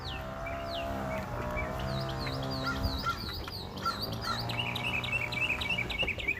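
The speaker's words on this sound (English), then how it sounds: "the birds are just sitting around here chilling" Birds sitting around in a city neighborhood, a busy overlapping chorus of chirps and tweets near and far, with some lower honk-like calls and steady background hum.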